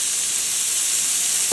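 Cumin hits hot oil with frying onions in a pan, giving a loud, steady hiss and sizzle close up that runs on without a break.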